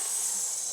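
A person breathes out in a steady, close breathy hiss, imitating an angry cat during a mother and baby yoga session.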